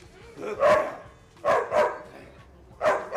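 Dog barks in three separate bursts, a pair close together and then another burst, loud and near, with no talk over them, during a training session with a girl dog called 6 on a documentary about dangerous dogs.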